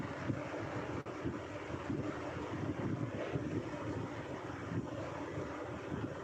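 Wind blowing outdoors, a steady rumbling gust buffeting the microphone for the whole stretch, with no voices.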